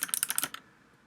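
A burst of crisp, quick keystrokes on a SteelSeries computer keyboard, about eight close clicks in half a second, then quiet.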